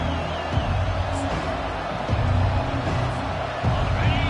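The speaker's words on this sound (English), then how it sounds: "This crowd bringing the energy and noise early." Crowd at a TCU versus Oklahoma college football game, a broad, steady roar of fans filling the stadium with a few louder swells, heard at a distance with no clear voices.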